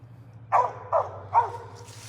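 A hunting dog on a solo squirrel hunt gives three sharp barks at roughly half-second intervals, fairly close and alone over a low steady hum.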